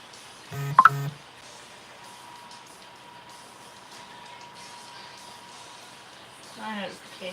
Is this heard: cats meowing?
no